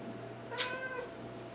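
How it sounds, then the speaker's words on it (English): A cat gives one short, clear meow, fairly close, against a quiet room with a faint steady hum, and no one speaking. "Cat's meowing a lot."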